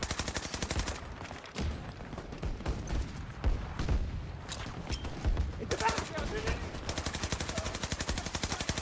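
Rapid gunfire in Battlefield, rounds punching through a wall: dense automatic bursts rattle on and off across the whole stretch, loud and close, with other game noise beneath.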